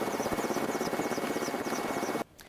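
A military helicopter carrying Ukrainian naval border guards flies at low speed, its steady rotor chop and engine drone loud and close before cutting off abruptly near the end.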